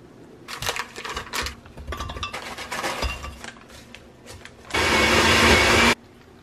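A blender whirs loudly and evenly for about a second as it blends a smoothie bowl with greens, after scattered clinks and clatter of dishes and utensils nearby.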